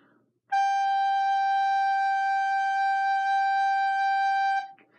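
Recorder playing a single sustained G note, steady and clear for about four seconds, close and alone with no talk.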